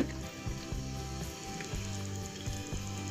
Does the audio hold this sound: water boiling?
yes